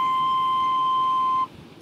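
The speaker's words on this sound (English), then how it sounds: "So this is our C note, and it sounds like this." A recorder sounds a C note, fingered with the thumb, pointer and middle finger, in a 3rd grade recorder lesson. It is one steady, clear, loud tone held for about a second and a half that then stops, played alone.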